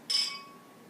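Glasses of absinthe clink together once in a toast, a bright short chime that rings and fades quickly, alone.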